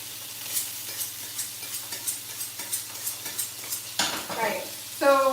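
Steak and garlic fry in a pan with a steady close sizzle, while regular scraping stirs tick through it and a brief clatter sounds near the end, with no talking.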